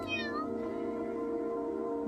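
A cat lets out a single short meow near the start, close and clear, over a steady droning background hum that continues after it stops.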